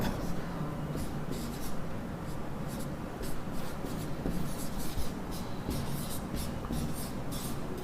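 Chalk or marker writing on a board in a Sanskrit classroom, a steady run of short scratchy strokes in quick rhythm, fairly close, with faint room noise and no talk over it.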